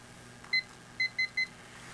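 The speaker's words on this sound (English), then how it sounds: "I got a little kitchen timer here." A little kitchen timer being set for three minutes gives four short, clean electronic beeps close by, one alone and then three in quick succession, in a quiet room.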